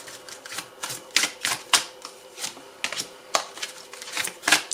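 A run of crisp, rapid card snaps and flicks as tarot cards are drawn and flipped, irregular clusters of sharp clicks close to the microphone, no talking over them.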